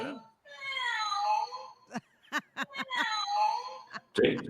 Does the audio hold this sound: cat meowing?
yes